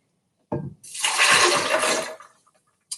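Two cups of water poured into a blender for an almond smoothie, a short splashing gush after a brief initial splash, close by and alone.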